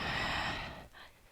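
A person exhales during a full-body weights workout, a breathy, airy rush of breath that fades out, followed by a shorter, fainter puff.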